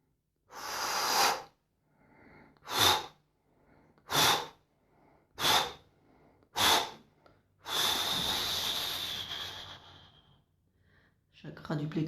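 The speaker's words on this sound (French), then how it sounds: "Chakra sacré, on inspire." Deep breathing during an active bio-energetic meditation practice: five separate forceful breaths, each about half a second long, then one long sustained exhale or inhale of about two and a half seconds. The breaths are close and loud, with quiet gaps between them.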